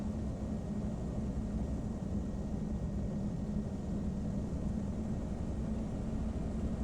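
Twin engines of a PA-34 Seneca in the FSX flight simulator, a steady, loud, unbroken drone with broadband roar and a low hum throughout a rolling takeoff, no voices.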